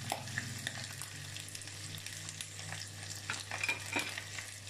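Hare legs fry and brown in a hot pan, a steady quiet sizzle with occasional spits and light stirring scrapes, close and without talk.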